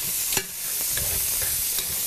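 Fresh garlic frying and being stirred in a pan, with a steady soft sizzle and a few scraping stirs of a utensil across the pan bottom.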